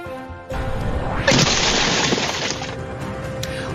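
A window shattering in a road rage incident: a sudden loud crash of breaking glass, then a spray of crunching shards that tapers off.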